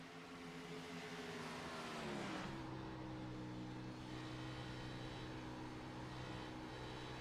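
Onboard engine of the No. 43 Ford Xfinity race car at Las Vegas in iRacing, a steady loud drone with layered harmonics that dips and shifts around two seconds as revs change, then holds a constant high-rpm roar.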